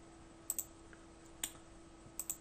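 Faint, sharp computer mouse clicks during a Windows software installation, a close pair, then a single click, then another pair, set against a quiet steady room hum with no voices.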